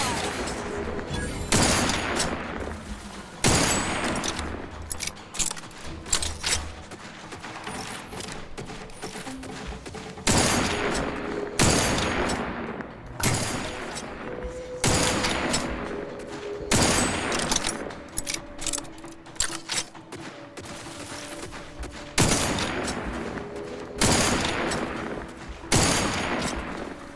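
Gunfire in the video game The Outer Worlds 2 comes in repeated bursts of loud shots and short volleys across the whole stretch, with mechanical clatter and faint game sounds between them.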